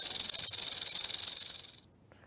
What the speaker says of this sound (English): never heard a rattlesnake rattle